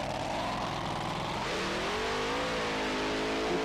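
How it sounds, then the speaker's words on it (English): A Top Methanol Dragster roars through a burnout at a drag racing event, its engine a steady, loud, close howl that rises and shifts pitch midway while tyres spin. "You can see the shape of the tyres expanding out due to the centrifugal force as they do that burnout."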